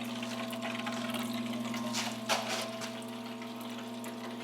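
A parts washer pump pushes water through a faucet, a steady electric hum under continuous splashing flow, close, with a brief louder gush midway and no talking.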